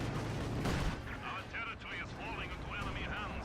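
Gunfire and explosions sound from a World War II strategy game, Company of Heroes 2, where Soviet Dishka heavy machine guns hold a line. A loud burst comes first, then fainter shots sit under ongoing game noise and chirpy sound effects.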